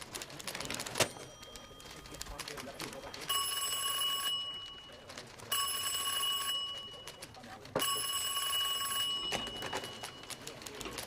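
A bell telephone rings in three long bursts with pauses between them, bright metallic trills heard close and clearly over a quiet room with faint clicks.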